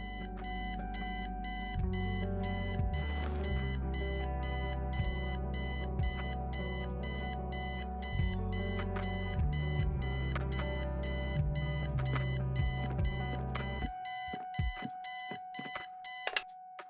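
An alarm clock rings in the video game Kathy Rain, a loud, steady electronic beeping repeating rapidly for about fourteen seconds before cutting off, leaving a faint tone.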